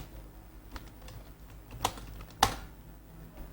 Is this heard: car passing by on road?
no